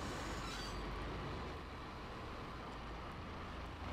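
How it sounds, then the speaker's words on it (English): A train in the video game Max Payne rumbles steadily along the track, dense wheel and carriage noise with a brief squeal at the start, no voices. "So let's see Max Payne as a train driver."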